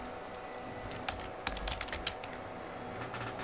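Quick bursts of clicking keystrokes on a computer keyboard, close and fairly soft, clustered in a short flurry over a quiet room background.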